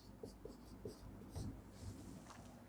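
Chalk or marker strokes scratch across a board during a Sanskrit lesson, a series of short rubbing bursts at irregular intervals, faint and close, with no talk.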